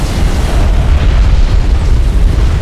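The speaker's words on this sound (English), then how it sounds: "Enemy airstrike inbound. One of our turrets is taking fire." Enemy airstrike explosions in the strategy game Homeworld: Deserts of Kharak roar as a loud, continuous rumbling barrage of booms, heavy and close throughout with no pauses.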